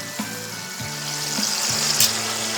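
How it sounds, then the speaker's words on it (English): Pork tenderloin sears in butter in a hot pan, giving a continuous close crackling sizzle, with faint rhythmic low bumps running under it. "now I'm searing the other side"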